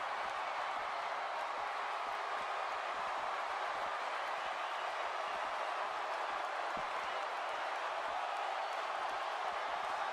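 A wrestling arena crowd in the WWE 2K17 video game produces a steady, dense roar of cheering and murmuring that stays even throughout, with faint applause under it.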